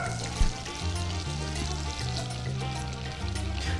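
Butter melts and sizzles in a pan ahead of flour being added, a steady frying hiss with light crackle that runs without pause for several seconds.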